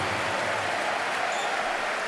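Steady roar of a German crowd at a EuroBasket 2022 basketball game against Slovenia, cheering and applauding a made free throw, a dense continuous wash of noise with no pauses.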